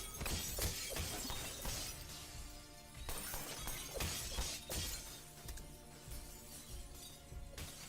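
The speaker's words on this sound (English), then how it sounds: "Now that the glass is coming down" Glass shatters repeatedly during a Mike Tyson versus Ip Man film fight scene, loud crashes and tinkling shards mixed with rapid impacts and dramatic music.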